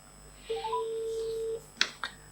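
A telephone gives off a steady electronic tone lasting about a second after a brief stepped rise in pitch, followed by two sharp clicks, fairly close in a quiet room.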